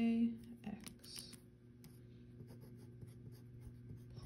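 A pen scratches across paper in short, quiet strokes and taps, faint and close, over a low steady hum.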